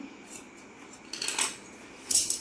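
Scissors snip through plain blouse cloth in a tailoring session: a few soft, light cuts close by, ending in a quicker, brighter cluster of snips, with no talking.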